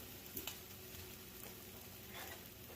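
Butter sizzles and melts in a cast iron pan with eggs, a soft continuous crackling fry with a few small pops, moderately quiet.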